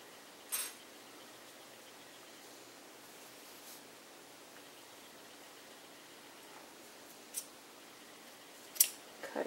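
Scissors snipping crochet yarn make a few sharp, close clicks, one early and a quick pair near the end, over a faint hiss of room noise.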